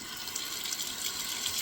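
Water runs in a steady hiss from a denture cleaning faucet with a water fountain feature, close and constant, with no other sounds or voices.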